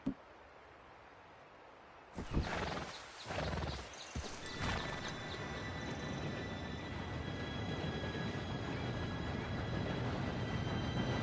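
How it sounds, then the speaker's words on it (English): An approaching steam train in Red Dead Redemption 2 rises abruptly into a loud, steady rumble and clatter, with sharp rhythmic knocks early on and a sustained hiss and whistle-like tones building over several seconds, heard alone without talk. "Train should be here any minute now."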